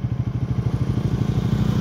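A motorcycle engine rumbles steadily and fairly close on a forest road where sambar deer are crossing, its low pulsing drone constant throughout.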